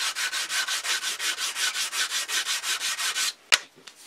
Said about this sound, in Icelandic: pússa hérna niður